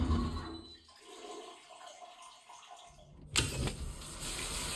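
A toilet flushes in Death Stranding 2: after a quieter stretch, a sudden loud rush of water bursts in and keeps pouring with a broad hiss, no voices.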